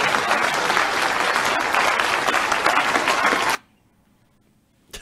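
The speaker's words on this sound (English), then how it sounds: "Please clap." An audience claps loudly and densely at a speaking event for about three and a half seconds, then the applause cuts off abruptly into near silence.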